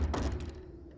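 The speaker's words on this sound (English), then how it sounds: "suddenly we heard a door slam downstairs" A single heavy door thud in a horror story set in an isolated mansion, a brief low impact that fades quickly into a dull rumble.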